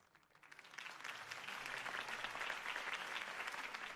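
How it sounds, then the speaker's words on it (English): A crowd applauds after a mayoral campaign speech in the Batman Telltale video game. The clapping starts softly, swells within a second into dense, sustained applause, and continues steadily with no voices over it. "could have heard that applause"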